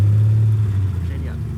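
A classic collector car drives past near Talmont-Saint-Hilaire, its engine a loud low drone that slowly fades as it moves away, with voices partly over it.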